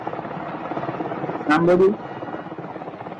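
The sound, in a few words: helicopter in a played news video clip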